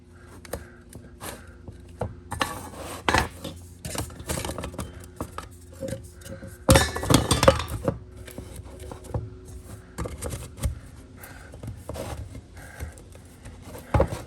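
Metal clatter and scraping as a pot holder and parts of a compact emergency wood-burning cook stove are pushed down into a metal can, irregular knocks and rustles with one louder clanking burst midway.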